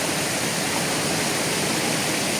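A river rushes beneath a bridge in a park in Donaueschingen, a steady, dense wash of flowing water with no breaks, loud and even throughout.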